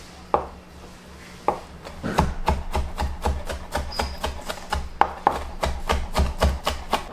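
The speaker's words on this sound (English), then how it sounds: "Now chop the prawns finely." Knife chopping prawns finely on a board, a few isolated taps at first, then a rapid steady run of crisp close-up chops.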